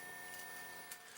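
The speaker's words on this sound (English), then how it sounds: "that was the noise of it prior to grinding" A Turin DF64v or CF64v coffee grinder runs empty at max RPM, giving a steady, fairly faint motor whine with a faint high tone and a brief uptick near the end, no voices.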